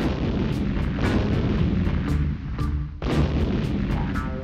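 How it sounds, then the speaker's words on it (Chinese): Explosions in the video game Mini World, a run of loud booming blasts with sharp cracking onsets, one after another, with a brief lull before a final burst. "怎么有爆炸的声音？"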